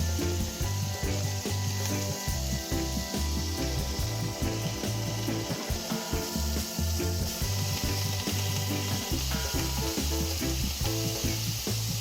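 Steak sizzles and spits loudly in a pan as it fries well done, with a dense continuous crackle and occasional stirring scrapes.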